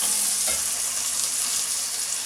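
Mushrooms fry in a pan for cauliflower cheese with bacon, giving a steady, close sizzle that holds loud throughout with a faint stir or scrape partway in and no voices.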